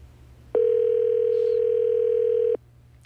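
Telephone dial tone for a call to a radio studio, a loud steady tone lasting about two seconds, then cutting off sharply over a faint low background hum.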